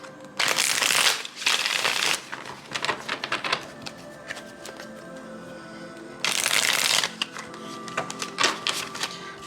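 Tarot cards are shuffled in two loud riffle bursts, with softer card flicks and taps scattered between them, close and with no talking.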